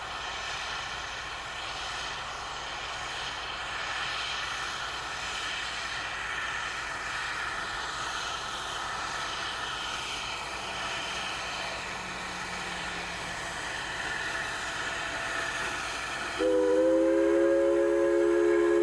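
An 1875 wood-burning 4-4-0 steam locomotive on the Durango & Silverton in Colorado races along flat valley track near Hermosa, a steady distant rumble that ends in a sudden loud, clear whistle blast near the close.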